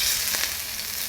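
Filet mignon steaks searing in hot oil in a pan, a loud, close, continuous sizzle with a couple of brief spattering bursts, no voices.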